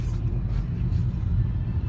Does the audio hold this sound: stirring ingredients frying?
no